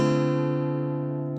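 A guitar chord in standard tuning including the open D string for bass, one strummed chord ringing out rich and sustained, decaying gently, heard close with no talk.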